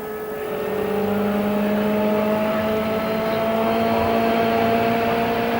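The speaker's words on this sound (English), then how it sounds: "He's just working his car back and forth now, feeling to make sure he doesn't have a tire going down." A 1995 CART Indycar at the Michigan 500 is weaved back and forth on track to feel for a deflating tire, its engine a steady, loud drone with sustained tonal whine throughout, no voices.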